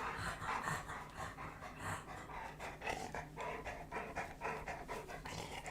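A pet dog pants quickly and steadily close by, its rapid breaths filling the whole stretch at a moderate level, with no voices heard.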